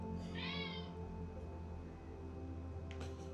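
A nearby cat gives one short meow, with a low steady hum under it and a faint brief clatter near the end.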